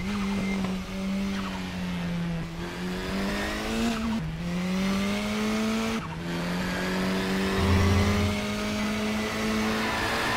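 A KTM X-Bow race car in the Raceroom racing game laps the Portimao National circuit. Its engine whines steadily, with brief drops at gear changes and some tyre squeal, as another car approaches from the opposite direction.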